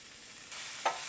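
Chopped onion sizzles in a pan with a steady soft hiss, and one brief scrape of a utensil comes near the end.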